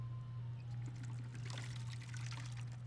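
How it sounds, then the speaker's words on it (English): Water pouring as a container is refilled in Skyrim, a brief trickling splash over a steady low hum, fairly quiet, with no talking. "Then we refill the water."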